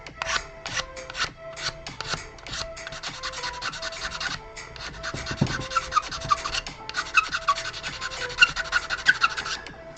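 Squeaky, rasping friction as a resin model part for an Elden Ring Godfrey figure is sanded by hand, with quick repeated strokes building into a steady, close scratching rhythm and high squeals riding on top.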